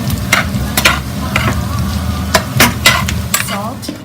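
Potato, onion and garlic mixture stirred in a pan on the stove, a steady scraping swirl with a sizzling bed beneath and several sharp utensil clacks against the pan, close and fairly loud with no talking.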